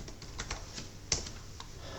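Quiet, close keystrokes on a computer keyboard as an item name is typed into accounting software, a sparse irregular run of light clicks with one sharper tap partway through.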